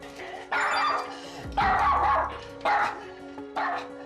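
A schnauzer barks repeatedly at close range, four loud yappy bursts spaced about a second apart, with a low thump between the first two.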